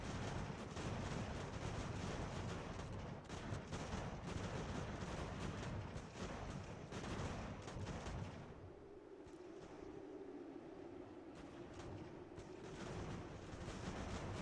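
Artillery fire in Ultimate General: American Revolution rumbles as a dense, continuous barrage of booms and crackling volleys, then drops off, leaving a quieter hum; faint overall.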